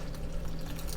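A shaken margarita-mix drink poured out, giving a steady, close liquid splash and trickle that runs for about a second on its own.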